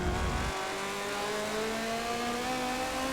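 A race car in Forza Motorsport 7 at Sebring at night, accelerating at full throttle out of a corner, its engine note climbing steadily in pitch, loud and close, with no talk over it.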